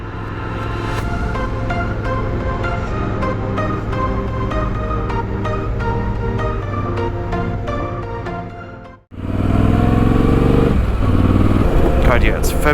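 A motorcycle runs steadily and loudly on an early-season ride with snow still on the ground, engine drone holding a constant pitch before a brief dip and a harsher surge of wind and engine noise.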